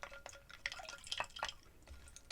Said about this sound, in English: So let's get this stirred.